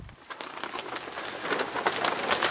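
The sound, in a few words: rain falling on a tarp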